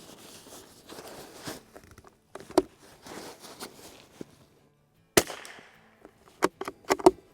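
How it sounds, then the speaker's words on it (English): Four sharp shots from a pre-release Springfield Armory Model 2020 rimfire .22LR rifle crack out near the end, clustered in quick succession after earlier rustling and handling noise; the reports are fairly loud and close. "So what you'll see there is I actually just shot 4 rounds."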